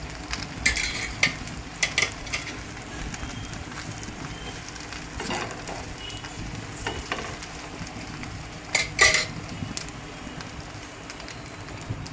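A pancake fries in a little oil in a pan, giving a steady, close crackling sizzle throughout with occasional sharper pops and clinks, and no talking.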